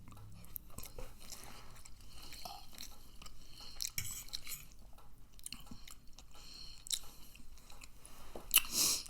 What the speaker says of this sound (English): another delicious bite